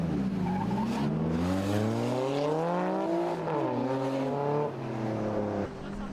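Drift cars battle through a competition run, engines wailing and revving with rising and falling pitch alongside tire squeal, loud and continuous as they slide through the course.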